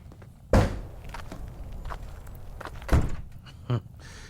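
A boy struggles with a big, heavy door, producing a loud thunk followed by shuffling steps and scraping, then another heavy bang and a smaller knock, all fairly close.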